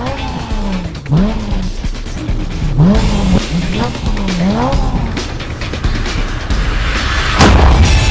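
Cars in a street race rev and accelerate hard, a series of loud rising and falling engine sweeps repeating over constant road noise, with a heavy burst near the end.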